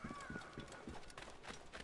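Rhythmic horse hooves clip-clop steadily in an Assassin's Creed video game, with faint game ambience underneath and some speech-like sound present.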